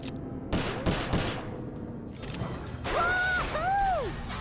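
Gunfire in the PS3 game Sly Cooper: Thieves in Time, with several sharp, loud shots cracking out early, then a burst of rapid fire mixed with whistling, swooping game effects.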